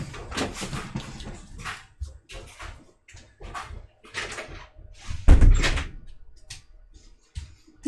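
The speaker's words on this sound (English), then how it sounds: "I'm gonna go close that door" Indoor door swinging shut with a string of soft knocks and shuffles, then one loud close thud near the middle and a few lighter bumps after, no voices.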